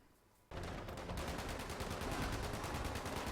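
Rapid sustained plasma rifle fire in Fallout 76, a dense, loud automatic stream of crackling energy shots that starts abruptly after a brief quiet moment and continues steadily without pause.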